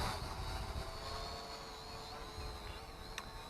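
An Eachine E520S toy-grade drone flies with a steady, high-pitched buzzing whine of small propellers, fairly constant in level, with a faint wind rush and no talk.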